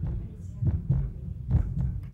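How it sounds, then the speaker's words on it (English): A giraffe's heartbeat thumps low and muffled, with about three heavy beats in two seconds and a soft whooshing between them. "From the heartbeat of a giraffe"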